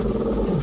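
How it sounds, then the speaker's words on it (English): A pet dog named Bandit growls low and steady in a quiet indoor room, a continuous rumbling snarl held close for under a second. "Bandit keeps staring up and growling at something it perceives as a threat"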